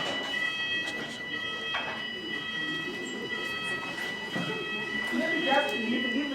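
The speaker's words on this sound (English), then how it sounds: "There is just that alarm." An alarm goes off in a room, a continuous, shrill electronic tone that holds steady throughout while a person talks over it.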